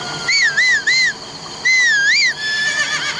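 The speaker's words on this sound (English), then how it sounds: "You whistle and your horse will come running right to you." A melodic whistle calls a horse in a Nintendo Switch video game, several sliding, wavering tones in two bursts, loud and clear, with a faint horse whinny and soft game ambience beneath.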